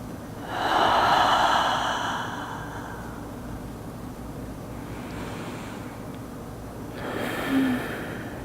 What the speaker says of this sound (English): Taking a breath.